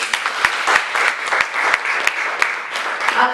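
A church congregation applauds the word of God, a dense, steady wash of many hands clapping throughout, with no voices over it.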